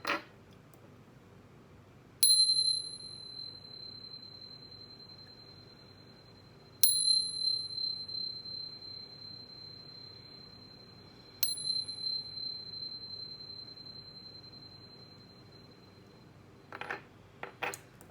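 Chime bell struck three times at roughly even intervals before a reading, each strike giving a bright metallic ring that sustains and slowly decays in an otherwise quiet room.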